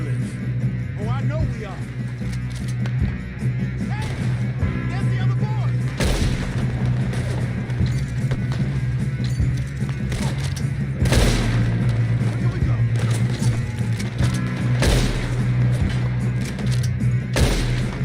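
Gunfire in the video game Red Dead Redemption 2 during a shootout: repeated booming gunshots spaced through the scene over a steady rumbling bed, with characters talking throughout.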